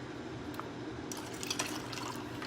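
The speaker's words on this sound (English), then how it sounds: "I'm going to pour it into a glass so that you can see it, but it comes right out of our tap line" A cocktail of sweet vermouth and local apple cider runs from a bar tap line into a glass, a short close stream of liquid with small drips and splashes and no talking.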